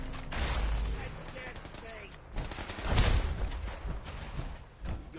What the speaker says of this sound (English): Why are they shooting at my...